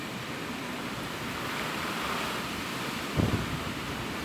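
Wind roars steadily through a hurricane, Hurricane Dorian, as broadband rushing noise, then a stronger gust swells and buffets near the microphone in a brief burst toward the end.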